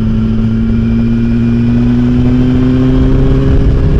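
A 2008 Yamaha R1 motorcycle engine revs hard under throttle, loud and close, with steady harmonic tones that climb slightly as it pulls.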